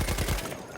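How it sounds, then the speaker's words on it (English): Rapid bursts of automatic gunfire from Battlefield 1 laying down covering fire, a fast rhythmic rattle of shots for most of the moment before the bursts trail off. "I'm able to just lay down covering fire"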